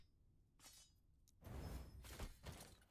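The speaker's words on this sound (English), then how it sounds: "Let's shatter this." A crafting item shatters in the action RPG Last Epoch, a burst of bright crackling breakage followed by a couple of heavier impact thuds, loud and close with faint game ambience before it.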